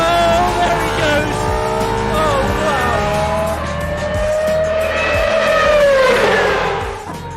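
An Aston Martin Valkyrie AMR Pro hypercar works around a race track, its high-revving engine screaming loud and near with rising and falling pitch through gear changes, climbing to a peak before fading slightly at the end.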